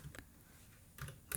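Keys clicking on a computer keyboard while a command is typed into a Windows command prompt, a few quiet, separate taps with a short burst near the end, close and faint, with no voice.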